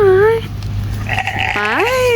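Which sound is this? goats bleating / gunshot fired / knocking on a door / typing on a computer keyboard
goats bleating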